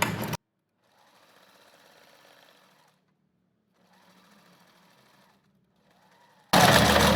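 Sewing machine stitching fabric for a small pouch, with a few backstitches, in three short, quiet runs of steady whirring separated by pauses, bracketed by loud handling bumps at the start and end.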